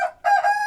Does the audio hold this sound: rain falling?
no